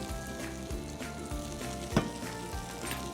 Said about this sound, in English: So you can see that's just bubbling away, frying nicely.